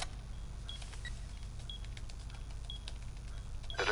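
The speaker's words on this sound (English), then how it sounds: "Plant the diffuser in the smoke near the bomb." A diffuser is planted near a bomb in a tactical video game, with faint, evenly spaced electronic beeps over a steady low hum of game ambience.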